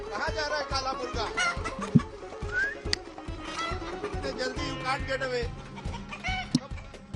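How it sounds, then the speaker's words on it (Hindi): A Kadaknath black chicken clucks in short bursts beneath steady nearby talk by several people, with occasional sharp squawks breaking through. "Kadaknath chicken. Oh, black murga."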